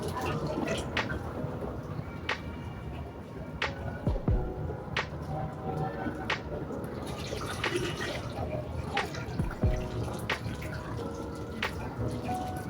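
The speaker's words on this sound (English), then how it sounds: "I've poured 1000 ml of water into it" Water poured into a pot, a steady splashing flow with scattered drips and clinks running throughout, close and fairly loud.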